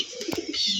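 A homing pigeon gives a short, close coo with a soft throaty burble, lasting under a second, with no voices over it.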